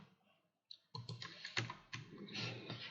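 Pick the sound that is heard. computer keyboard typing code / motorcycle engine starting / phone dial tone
computer keyboard typing code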